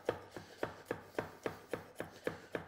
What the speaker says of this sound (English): simply rock the knife back and forth over the garlic